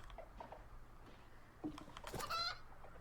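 A chicken clucking in the video game Reka, a few soft clucks building to a louder burst of squawking near the end, moderately close over faint background noise.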